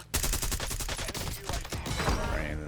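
Rapid bursts of gunfire in a Call of Duty Warzone battle royale match in Verdansk, a dense fusillade of loud, close shots in quick rhythmic succession for the whole stretch, with a few more scattered shots toward the end.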